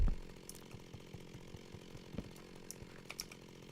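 A modded Minecraft chainsaw cutting melon blocks: a droning motor buzz runs throughout at low volume, punctuated by a regular series of soft thuds and clicks as blocks break, starting with a louder burst at the very beginning.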